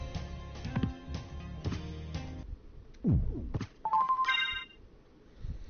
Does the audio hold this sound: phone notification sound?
yes